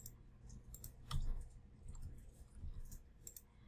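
Soft, faint taps on computer keyboard arrow keys in a quiet room, a handful of scattered light clicks spread unevenly over a few seconds.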